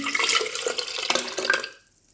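Tamarind pulp poured into a pot, a short wet splashing and gurgling pour with a few drips that stops abruptly, leaving quiet.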